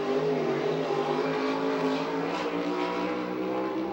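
A 410 sprint car on a Stinger chassis with a Ford engine runs hard around a Victorville, California oval, a loud, steady, high-pitched roar with throttle surging and fading, heard alone with no talking.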